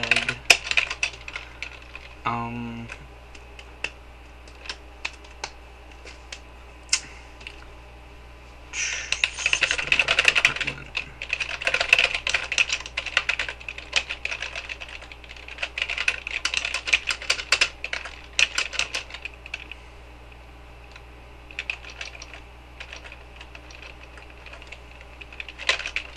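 Steady typing on a computer keyboard while writing Java code, with rapid clustered keystrokes in bursts and brief pauses, close and clear, no talking.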